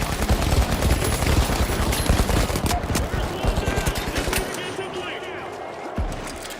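An automated turret in The Finals fires rapid bursts of gunfire, loud and dense, then thinning out before a last single shot, with talk over the shooting.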